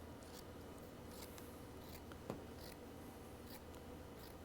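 Scissors snip through a lint-free cloth, cutting it into pieces for cleaning a car's power antenna mast; a few quiet, brief cuts sit over low background hiss.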